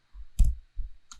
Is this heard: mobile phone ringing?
no